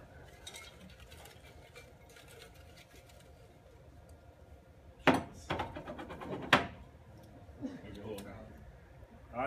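Paper lottery tickets stirred by hand in a container for a prize draw at a Roland open-house day; a quiet room murmur, then a few sharp rustling, clattering bursts close by, with fainter rustles after.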